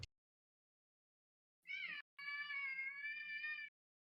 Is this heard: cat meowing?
yes